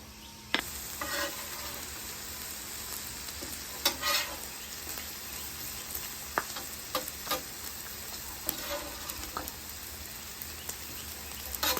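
Bacon sizzling in a pan for smoked baked beans: a quiet, steady crackle of frying fat with scattered sharper pops and occasional stirring clicks, no voices.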